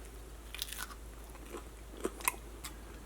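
Crunchy homemade breakfast bread, kneaded with oil, is bitten and chewed close up, giving a few sharp, crisp crunches spaced irregularly over quiet background hiss.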